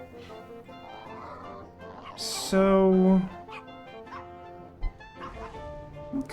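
Dogs bark in the Wallace and Gromit's Grand Adventures game episode The Last Resort, one loud burst standing out midway over a background of talk and soft game sounds.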